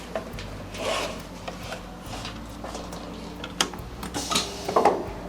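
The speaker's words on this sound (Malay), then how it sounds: "Okay, mula-mula kita akan potong liner dia dulu." A machine cuts the liner of a wooden picture frame, giving rasping, grinding bursts with small ticks between them over a low background rumble, the loudest surges coming near the end.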